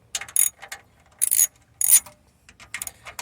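A wrench works the 8 mm bolts on a Toyota Prius hybrid battery pack, giving sharp ratcheting clicks in several short bursts separated by pauses, close and fairly loud with no talk.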